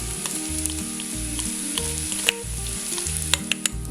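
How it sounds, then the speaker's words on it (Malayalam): Rice and onions frying in ghee for chicken biryani, a steady close sizzle with occasional crackles and the scrape of a stirring utensil, no voices. "അരി ഈ നെയ്യിൽ കിടന്നിട്ട് ഒന്ന് റോസ്റ്റ് ആകണം."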